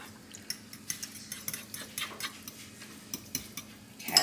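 Milk being mixed into a zucchini casserole mixture in a bowl, with a steady series of light utensil clicks and scrapes against the dish at a quick, even pace, close and fairly quiet with no talk.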